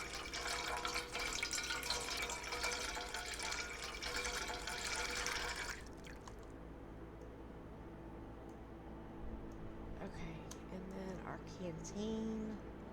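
Water pours steadily into a canteen from a well in a video game, a bright, continuous rush for about six seconds that then stops and leaves quieter background sound.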